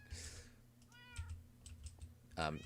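Cat meowing in Minecraft, two short, quiet mews heard faintly over soft keyboard clicking in a quiet room.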